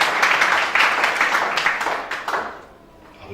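A church congregation breaks into loud applause during a French-language sermon. The clapping is dense and sustained, with a few voices mixed in, and it fades out near the end.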